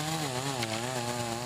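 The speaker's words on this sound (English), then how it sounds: "Hearing the high-pitched whine of chainsaws in the middle of the day" A chainsaw whines steadily at high pitch while cutting trees near a home, one continuous engine drone with slight pitch wavering and no pauses, fairly close and loud throughout.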